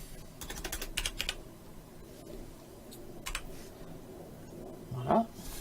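Keys clatter in short bursts on a computer keyboard while a web page is being coded, with quiet gaps between the taps and a brief louder knock near the end.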